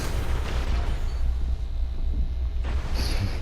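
A fusion rifle fires repeatedly in a Destiny Iron Banner match, loud and booming, with a continuous rumble of blasts and a sharp burst near the end, no talk.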